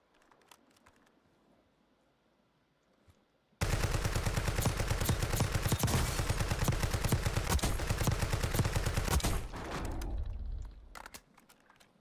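Call of Duty: Warzone gunfire erupts after a quiet stretch, a dense sustained burst of rapid automatic shots lasting several seconds, loud and close, then tapering off into scattered quieter sounds.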